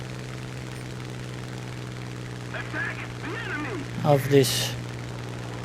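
Steady drone of a Typhoon Mk 1b fighter's engine holding a climb in War Thunder, a constant low hum running throughout, with someone briefly talking over it and short bursts of game sounds near the end.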